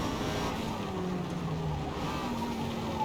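A Lotus race car circles Brands Hatch in a Forza racing game, its engine a steady moderate drone with shifting pitch as it drives, no talk over it.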